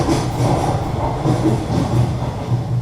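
A train runs along railway tracks, a steady close rumble of wheels and carriages with soft rhythmic clatter throughout.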